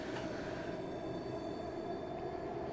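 A Bakerloo Line underground train runs in the game Virtual Underground, its wheels rumbling and rattling continuously with a faint squeal above, steady and close throughout, with no voices.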